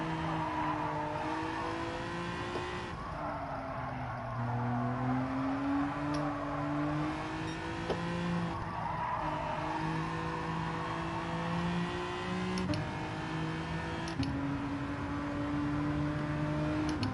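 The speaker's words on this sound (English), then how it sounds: "you're clearly meant to rev it out to get the best out of it" A race car engine in Gran Turismo 7 revs hard through the gears, its steady droning pitch rising and dropping with each shift, accompanied by tyre squeal across a continuous run.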